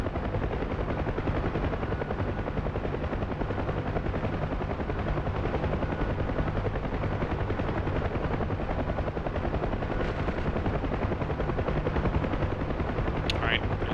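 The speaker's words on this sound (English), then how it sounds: "The ground troops are just shooting at number 2" A DCS Huey helicopter's rotor chops loud and constant while ground troops fire bursts of gunfire nearby, heard up close from inside the aircraft; a voice may be faintly present under the din.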